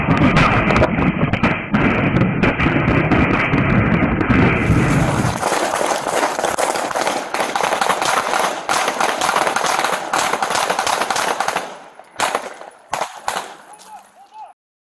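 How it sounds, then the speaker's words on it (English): Gunfire from a suspect shooting at police officers, with loud, dense bursts of sharp cracks and a sustained din of noise through most of the stretch, then scattered separate pops near the end; voices are faintly mixed in. "Suspect shoots at officers."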